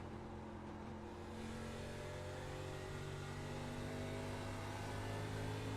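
Race car engine in the iRacing sim at Phoenix, revving against its limit near 8,000 RPM with a steady, loud droning whine that holds and climbs slightly while cornering.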